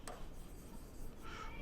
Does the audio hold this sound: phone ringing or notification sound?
no